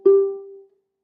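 A single ukulele string is plucked and then slid along the fret. The clear note rings out and fades over about half a second, close and alone.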